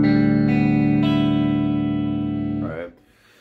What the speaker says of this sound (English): So what that means is that we've taken the low E string down to a D